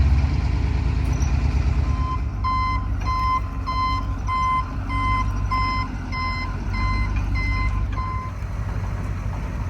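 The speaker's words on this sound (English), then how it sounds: "We are going to move the truck so it's a little bit closer to this big log." A truck is moved closer to a big log at an Alaskan log home build site. Its loud engine rumbles steadily throughout, and a run of evenly spaced reversing beeps sounds over it for several seconds.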